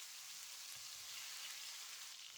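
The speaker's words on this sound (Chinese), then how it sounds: "现在立马倒入西红柿" Fresh tomatoes tipped into a hot wok of garlic fried over low heat give a steady, dense sizzle and hiss that stays loud and even throughout, with no voices.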